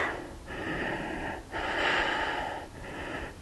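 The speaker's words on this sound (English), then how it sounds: "Remember to breathe." Slow, deep breaths during a yoga pose, up close and audible: a long airy exhale, then a fuller inhale and another exhale, each a soft wheezy rush of air.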